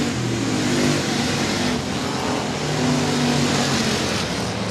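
A race car engine at Sabine Speedway, a dirt oval track, roars steadily and loudly with a droning mid-pitched growl, holding near-constant revs through a turn with no voices.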